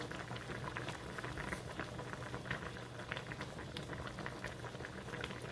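Seafood broth with squid and shrimp boils in a pot, a dense continuous bubbling and popping patter at steady moderate loudness with no voices.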